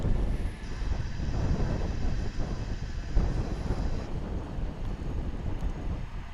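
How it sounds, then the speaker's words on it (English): An American Eagle regional jet arrives at DFW International Airport, its engine roar and rumble broad and steady throughout, mixed with wind buffeting the microphone and a faint high whine in the first part. "American Eagle jet."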